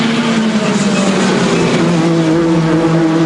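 WTCC Chevrolet touring race cars at Monza in 2011, loud steady engine drone with sustained tonal whine shifting slightly in pitch as the cars run close together.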